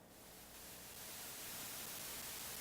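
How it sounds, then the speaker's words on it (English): White noise from a noise source module in VCV Rack, routed into a mixer, forms a broad, steady hiss that swells gradually from quiet to louder and then holds evenly, heard alone. "I'm just going to use simple white noise here into the input of this mixer and let you guys hear it"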